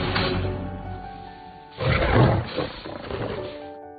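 A lion roars as it draws closer, a loud, rough burst rising over a steady low rumble and then fading into a few shorter grunting calls.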